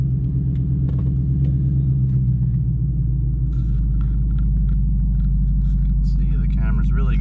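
A car engine rumbles steadily from inside the cabin while driving, a low, continuous drone with faint clicks and rattles, and a voice talking over it near the end.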